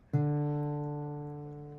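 A single guitar D string is plucked once with the thumb, ringing clearly and slowly fading away on its own.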